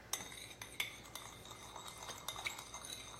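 A utensil stirs pepper and seasoning together in a bowl, making soft scraping and light clinking taps at an irregular rhythm, quiet and close with no talking.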